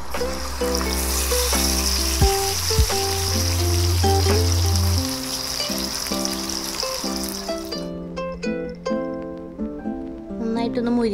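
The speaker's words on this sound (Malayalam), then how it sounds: "ഇനിയൊരു പാൻ വെച്ചിട്ട് അതിലേക്ക് കുറച്ച് വെളിച്ചെണ്ണ വെച്ചിട്ട് നമുക്ക് ഈ മീനൊന്ന്" Faskar fish fries in coconut oil in a pan, giving a steady loud sizzle that runs throughout, with clinks and stirring sounds on top.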